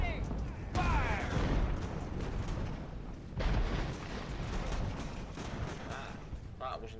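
Musket volleys from massed infantry in the naval-era strategy game Ultimate Admiral: Age of Sail: two loud, crackling bursts of gunfire roughly a few seconds apart, each trailing into a rumbling, smoky tail under faint background noise.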